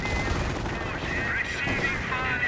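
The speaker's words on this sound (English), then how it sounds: "Taking a bit of fire from the Stug and the MG." Machine gun and StuG assault gun fire in Company of Heroes keep up a dense, continuous rattle of gunfire with battle noise layered underneath, loud and unbroken.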